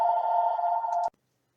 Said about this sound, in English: my phone rang and I let the answering machine pick it up